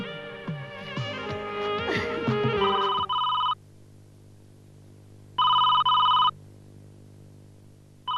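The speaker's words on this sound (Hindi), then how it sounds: "ये जरूर जय का ही फोन होगा।" A telephone bell rings in two loud bursts separated by silence, following a stretch of busy music.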